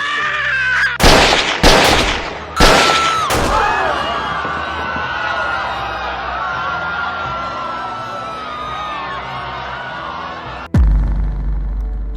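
Several sharp gunshots ring out close together in a movie scene, each a loud bang followed by a lingering tonal ring, then one more abrupt heavy bang near the end.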